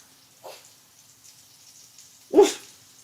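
A dog gives two barks indoors, a short soft one followed about two seconds later by a louder, sharper bark, against otherwise near silence.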